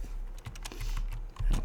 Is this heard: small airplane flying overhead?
no